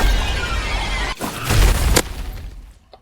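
The Cataclysm explosion ability from the video game Forsaken: a dense, rumbling effect that cuts off sharply, surges into a loud boom with a bright crack, then trails away into a fading rumble.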